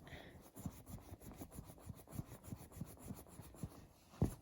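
Soft cloth rubbing the metal hardware of a vintage Louis Vuitton Alma PM bag, a quiet close rhythm of repeated scuffing strokes about three per second, with no talking.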